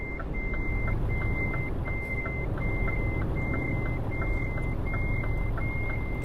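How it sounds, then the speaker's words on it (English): A Cummins V8 diesel truck engine in Euro Truck Simulator 2 drones steadily at low pitch, mostly masked by a regular series of loud, high reversing beeps repeating throughout. "Watch it be actually a Cummins diesel engine. Cummins V8. Because that's what's in this truck"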